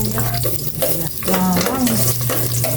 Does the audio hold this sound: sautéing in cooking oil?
yes